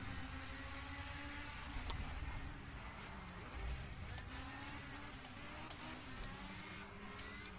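Race car engine in the Project Cars racing game, a steady droning note with pitch glides as the car accelerates and shifts, running continuously at moderate level with no talk over it.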